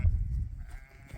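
Sheep on a farm during lambing season, with a low, wavering bleat heard at moderate distance over rumbling background noise, no speech.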